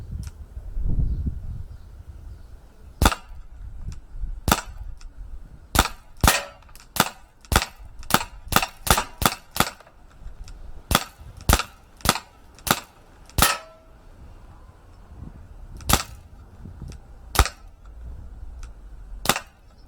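Umarex Beretta 92 Elite 2 CO2 air pistol firing pellets: about twenty sharp, loud cracks, some in quick bursts and others spaced apart, with quiet gaps between them.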